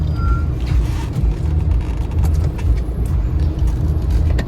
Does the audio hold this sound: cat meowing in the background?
no